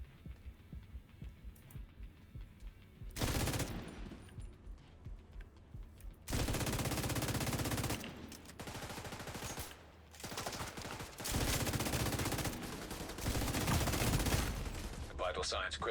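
Bursts of video game gunfire in a tactical shooter, loud dense volleys that start and stop repeatedly over a low throbbing hum, with quieter gaps between the barrages.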